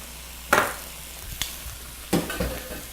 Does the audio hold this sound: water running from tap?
no